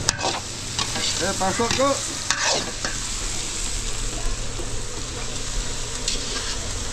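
Hotdogs sauté in a hot pan at a large outdoor cooking event, a steady sizzle running throughout with a utensil stirring and scraping, while a voice talks briefly over the frying early on.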